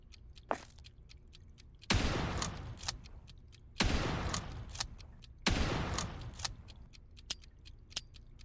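A shotgun fires in the horror video game Dead Beacon, three heavy booming blasts spaced about two seconds apart, each decaying into a rumble, with sharper clicks and clatter between them.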